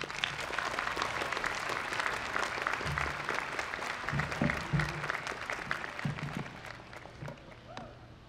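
Commencement audience at a UCLA English ceremony bursts into sustained applause welcoming a speaker to the stage, dense clapping with some crowd noise that tapers slightly at the end.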